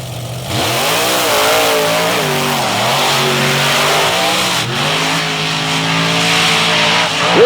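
Monster trucks, including Bigfoot and Equalizer, tear through sand in a first-round pairing, their engines roaring loud and close with steady revving and swelling pitch throughout, and no one talking.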